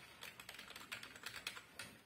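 Quick, light key taps on a compact MTEK keyboard with a slightly sloped profile, a fast irregular patter of clicks, close and fairly soft, with no talking.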